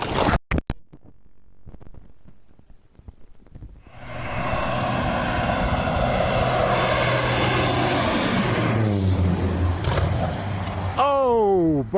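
A propeller aircraft engine, the plane grounded after a prop strike on Scotland's Western Islands, starts faint and sputtering, then swells from about four seconds into a loud, steady drone that shifts pitch near the end.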